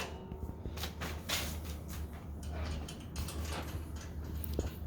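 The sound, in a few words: bolting a shifter mount onto a racing simulator rig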